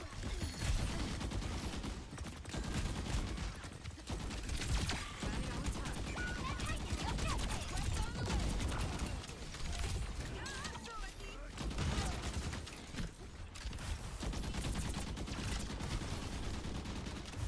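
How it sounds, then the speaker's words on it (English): Video game gunfire rattles on in repeated, overlapping shots over a dense, continuous background of mechanical noise, with voices talking now and then. "That's some nice shooting, Lou."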